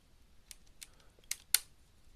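A computer mouse gives a handful of sharp, sparse clicks at uneven intervals in a quiet room. The last two clicks are the loudest.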